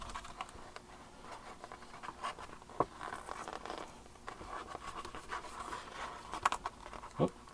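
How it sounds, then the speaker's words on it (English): Printed canning labels being peeled one by one off a sticker sheet, giving soft crinkly patters and scratchy papery rips, with a couple of sharper tears near the end; close and fairly quiet throughout. "I'm going to pop off these labels and put them onto our cans"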